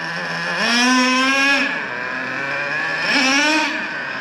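Nitro engine of a Traxxas Revo 3.3 RC truck during break-in tuning, its loud buzzing whine dipping then climbing twice in repeated drop-and-rise cycles, running alone without talk.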